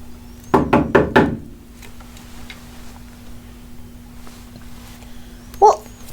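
Four quick, firm knocks on a door in a backstage theatre setting, close and loud, followed by a quiet stretch and then one more short thud.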